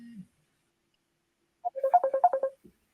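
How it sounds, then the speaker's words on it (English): A mobile phone ringtone rings in a live broadcast studio, a short burst of bright melodic electronic tones repeating in quick succession, fairly clear, with a brief low voice fragment before it. "Somebody's phone is ringing there"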